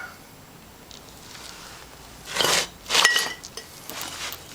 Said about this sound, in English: here's a lid to something. That's made of ceramic.